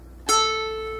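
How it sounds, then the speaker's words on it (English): A single guitar string plucked at the 12th fret rings out with a sharp attack, a clear bright tone and rich harmonics that sustain and slowly fade, close and alone. "if I pluck right here at the 12th fret"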